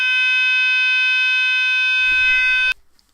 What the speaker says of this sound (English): Someone's fire alarm went off.